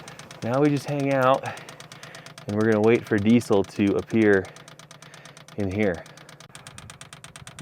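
A diesel heater's fuel pump, plumbed to tap the vehicle's tank, ticks in a steady, rapid rhythm while priming. The clicking runs continuously beneath someone speaking.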